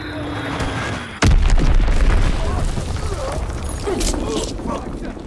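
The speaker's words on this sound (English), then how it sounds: "Dropping Azon bomb." A heavy Azon bomb explosion in a combat video game erupts with a sudden deep boom, then a long, loud rumbling roar that fills the rest of the moment.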